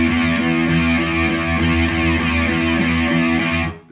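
Distorted electric guitar repeating steady, evenly spaced downstrokes on the muted low E string, loud and chugging at a constant level for several seconds before cutting off.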